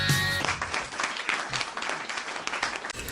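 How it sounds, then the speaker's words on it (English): A crowd applauds loudly with dense, continuous clapping throughout, briefly mixed with a tone at the start. "please make some noise for David Wright"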